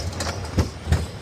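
A ride on the Carolina Gold Rusher, an old-school Arrow mine train roller coaster, with a steady rumbling roll broken by two heavy low clunks of the cars over the track, loud and close.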